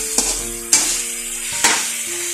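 Pork for sinigang na baboy sautéing in a pan: steady loud sizzle with three sharp scraping stirs of a utensil against the pot, close and alone.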